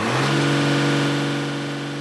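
Truck engine revving during a black smoke emissions test, a steady loud mechanical roar with a strong low hum that holds its pitch and then eases slightly, close up and without speech.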